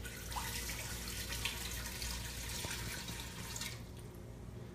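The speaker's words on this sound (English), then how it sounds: "So in here, we're going to put, for this recipe, 4 cups of water." Four cups of water are poured into the insert of a Ginny's brand pressure cooker, making a faint, continuous splashing trickle that runs steadily for several seconds with no voices.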